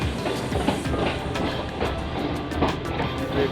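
A passenger train rolls slowly on rails on the Rawalpindi line, a steady rumble with rhythmic clicks and metallic clatter heard from inside, fairly loud and continuous, with no talking.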